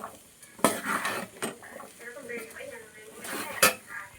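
A spoon scrapes and clinks against a pot while a pickle mixture is stirred, with uneven knocks and a couple of sharp metallic hits, close by, with a voice talking underneath.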